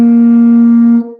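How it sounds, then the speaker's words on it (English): A trombone holds a high B flat, a bright sustained brass note with a strong fundamental, played solo and close, lasting about a second before tapering off. "we're going to go way, way, way up to a high B flat,"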